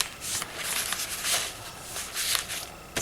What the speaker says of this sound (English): I'll just flip through the journal first